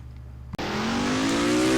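Race car engine at Iowa Speedway in NR2003, a single car's engine cutting in abruptly and rising in pitch as it accelerates, loud and steady, with no voices.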